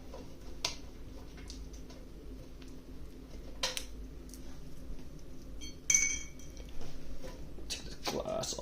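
Glass side panel of an Allied Gaming Patriot ATX tower PC case being taken off, with scattered light clinks and taps, a louder clatter near the end, and someone talking.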